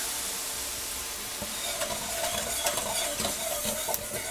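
Milk is poured into hot fat and flour for a chicken fried steak gravy, hissing and sizzling steadily as a spoon stirs and scrapes through the pan, close and moderately loud with no talking.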